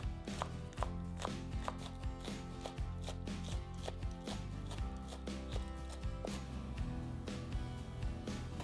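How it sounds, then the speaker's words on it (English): Scallions being thinly sliced with a knife on a cutting board, a steady run of quick, close blade taps with no talking. "Start by thinly chopping the scallions."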